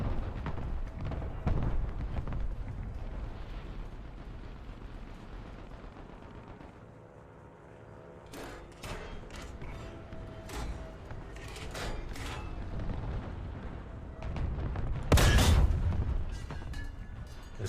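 Tank cannon shots and gunfire in a video game build event, heavy booming blasts with rumbling tails, one near the start and a loud close burst near the end, amid continuous low battle noise.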